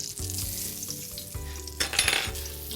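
Pork loin hits a hot pan and sizzles loudly and steadily, a continuous frying crackle with a brief sharper burst of spitting near the end, no voices present.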